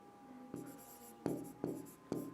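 Several short, scratchy writing strokes on a board, four distinct bursts in an uneven rhythm, fairly quiet and close, with no talking.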